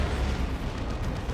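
Loud, dense battle noise from Dawn of War 2 as an Eldar Fire Prism fires heavy shots at a Phobos tank, with booming blasts and rumbling explosions packed together in a short burst.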